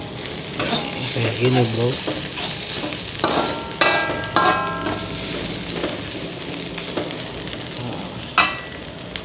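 Shallots, garlic, chili and candlenut stir-fry in oil in a pan for tofu and bean sprouts, a steady close sizzle broken by scraping stirs and clinks, with a brief voice speaking partway through.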